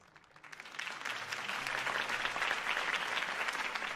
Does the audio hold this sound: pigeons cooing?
no